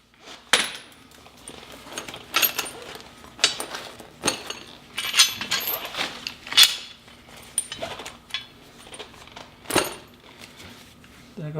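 A coil spring comes free from a Porsche 987 suspension strut in a garage, set among repeated metallic clanks, clinks and tool knocks, some sharp and close, with quieter handling noise between them.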